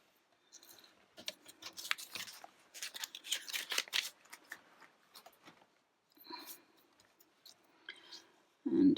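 Scissors cutting coloured cardstock, close and quiet: a flurry of rapid snipping and rustling strokes in bursts, pausing and then resuming briefly before a muffled thump at the end.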